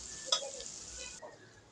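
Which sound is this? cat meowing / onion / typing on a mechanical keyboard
onion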